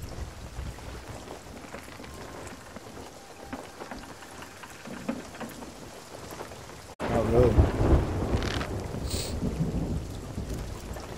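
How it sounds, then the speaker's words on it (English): Storm in the video game Sea of Thieves: steady hissing rain and wind, then a sudden loud thunder crack partway through, followed by heavier rumbling downpour. "we're in a storm and against the wind"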